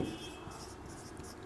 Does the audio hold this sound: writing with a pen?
yes